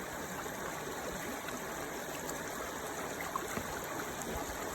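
The Burt River flows steadily past during gold panning, a constant close rushing and gurgling of stream water with small splashes, no talk.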